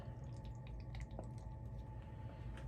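Water runs into a snuffer bottle during gold panning of paydirt, a faint low gurgling fill with small drips, steady and quiet throughout, with no talk.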